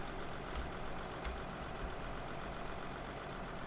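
A tractor engine idles in Farming Simulator 2013, a steady, dense drone that holds unchanged and close throughout.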